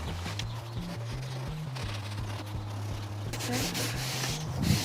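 A hand or microfiber cloth rubs firmly back and forth over a vinyl sticker on a Volkswagen Caddy, a continuous close scuffing with a low hum underneath.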